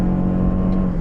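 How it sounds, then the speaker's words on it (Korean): A Toyota RAV4 PHEV's petrol engine, in hybrid auto mode, hums steadily close by, alone and at a constant pitch. "하이브리드 EV 오토로 해서 주행을 해보면 이렇게 하면 이제 엔진이 바로 살아나죠"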